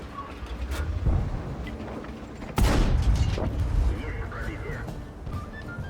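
Tank cannon fire in World of Tanks, IS-2-II heavy tank: a couple of heavy booming shots, the loudest near the middle with a long rumbling tail, heard under a player's ongoing commentary.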